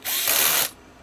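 A power screwdriver with a locking clutch tightening bulkhead screws on a Yokomo YD-2 RC drift car chassis, one loud, close, high-pitched whirring burst lasting about half a second before cutting off abruptly.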